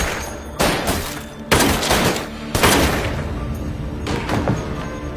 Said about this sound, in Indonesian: Ma Ji-yong menembak Hoyong berkali-kali sehingga membuatnya tidak berdaya.